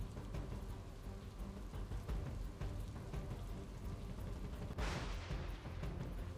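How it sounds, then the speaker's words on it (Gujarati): A brief rain shower falls over Gondal, wetting produce at the market yard: a steady, dense hiss of rain continues throughout, swelling briefly into a brighter, heavier wash near the end. "ગોંડલમાં વરસાદી ઝાપટા જોવા મળ્યા છે"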